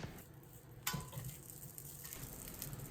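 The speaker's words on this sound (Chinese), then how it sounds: "将米饭炒至在锅中刷刷作响，开始跳舞时就可以了" Cooked rice for pineapple fried rice is tossed and stir-fried in a hot wok, giving a steady close sizzle with scraping, rustling stirs and a sharp clatter of the pan, no voices.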